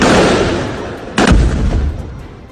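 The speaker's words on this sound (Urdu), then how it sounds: "فائرنگ کی آواز سنی جا سکتی ہے" Gunfire rings out during an armed attack on a hotel in Mogadishu, Somalia, with a sharp loud report near the middle over a dense, rumbling wash of noise that slowly fades.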